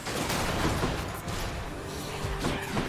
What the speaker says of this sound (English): Okay, Cluster Bomb's out.